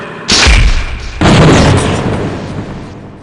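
A cluster bomb payload detonates in Half-Life: Gunman Chronicles, two loud booming blasts in quick succession, the second rolling out into a long rumbling decay.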